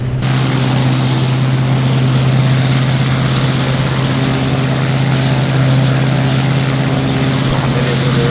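BF108 Taifun propeller aircraft engine at takeoff in a flight simulator, a loud, steady low drone with strong humming tones held without a break from start to end.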